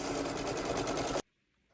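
An embroidery sewing machine stitches a design of small green leaves onto stabilizer and fabric held in a hoop. The needle whirs in a steady, fast, even drone up close, then stops abruptly, leaving silence.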